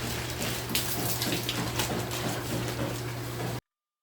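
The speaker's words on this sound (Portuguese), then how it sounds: "então já terminou de encher ali o aquário" Steady rushing, splashing water pours into a planted Amazon-style aquarium, filling the glass tank up and draining over into a sump; a continuous broadband wash holds evenly for about three and a half seconds, then cuts off abruptly.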